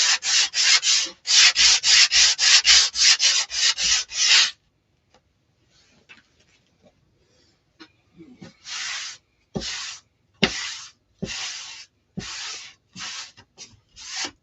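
A wooden faux pallet sign is sanded by hand in quick, loud rhythmic rasping strokes, a fast burst at first, then a quiet pause, then slower separate strokes.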